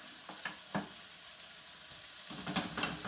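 Chicken sizzles in a pan with a soft, steady frying hiss up close, broken by a few light clinks and scrapes of tongs. The sizzle grows brighter toward the end, and there is no speech.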